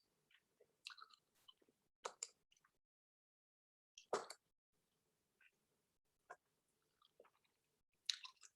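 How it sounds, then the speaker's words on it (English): Someone chews Altoids mints up close, giving irregular crunchy bites and soft mouth clicks in scattered bursts with quiet gaps between them, and no talking. "I'm chewing on my Altoids"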